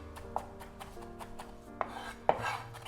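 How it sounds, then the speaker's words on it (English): Knife finely chopping food on a board for a spice mix, a quick run of soft rhythmic taps with a few sharper knocks, close and fairly quiet. "I love the sound of food being chopped."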